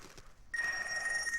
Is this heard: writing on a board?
no